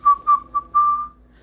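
A person whistles a short, happy tune alone, with several quick clear notes followed by one longer held note that fades, close and unaccompanied.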